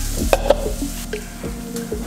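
Hot oil sizzles and crackles as oyster mushrooms fry in a pan for an alkaline vegan recipe, a steady close hiss with a couple of sharp pops and stirring clatter near the start, no voices.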